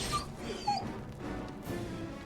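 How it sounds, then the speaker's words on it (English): Wolves whimpering and yipping while being fought in Neverwinter Nights 2, heard as faint, high, brief whines and yelps over a steady murky background of game sound, with no speech. "they don't have to hear the wolf sounds"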